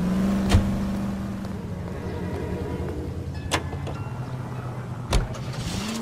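Car driving in the video game L.A. Noire, a steady engine drone with a low hum running throughout and a few brief sharp clicks or bumps standing out over it.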